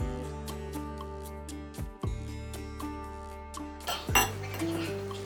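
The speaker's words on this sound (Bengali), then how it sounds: "এবার সবকিছু একসাথে ভালো করে মিশিয়ে নেব" A spoon clinking against a bowl while chopped chili, coriander, salt, pepper and egg are mixed, producing ringing metallic taps scattered through the clip, with one louder scrape and clatter near the end, close and with no speech.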